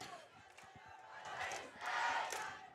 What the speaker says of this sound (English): Just about a dozen cheerleaders out on the field here, cheering on the Trojans student section